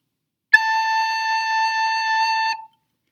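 A recorder-style instrument playing the note A with the thumb hole and two fingers covered: a single clear, pure tone held steadily for about two seconds, then stopping cleanly.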